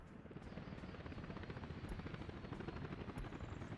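Helicopters near a repair bay in the city-building game Workers & Resources: Soviet Republic give off a continuous rotor thrum, a dense rapid chopping that swells slightly louder over a few seconds, with no speech heard.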